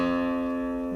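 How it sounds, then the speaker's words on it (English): A guitar's low E string, tuned too high, rings as one sustained, steady and close plucked note with rich overtones, heard alone. "let's say your low E string sounds like this."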